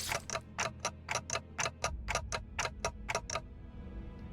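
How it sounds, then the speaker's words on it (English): A fast, steady clock-like ticking from Dante, the clock-headed character in the video game Limbus Company, with about fourteen crisp evenly spaced ticks that stop near the end, heard clearly with no talk. "I like that it ticks faster when he's in pain."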